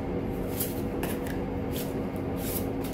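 Tarot cards shuffled and drawn by hand, a steady close rustling and riffling of the deck with a few sharper flicks as cards slide, continuous and fairly loud, no voice.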